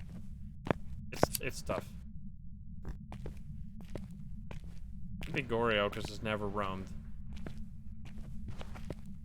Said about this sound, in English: Another footstep.